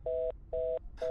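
After an international call cuts off, a telephone line gives three evenly spaced beeps, a steady pure tone pulsing on and off, clear and alone.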